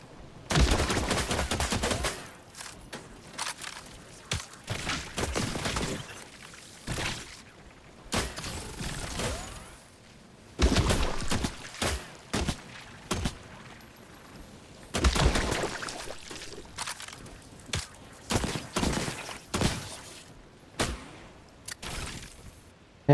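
Bursts of video-game gunfire, from rapid volleys to single shots, come in clusters with short pauses between them, loud and close throughout, with no talking.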